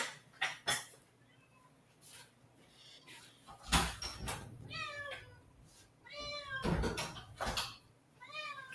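A house cat meows repeatedly indoors, several drawn-out calls close by and fairly loud, with brief knocks and household clatter between them.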